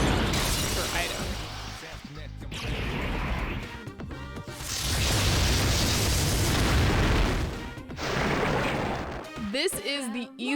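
Armageddon item attack in Persona 3 Portable, a long, loud wash of booming explosions and crashing bursts that swell and fade in waves, ending in sharper electronic effects, with a voice talking underneath.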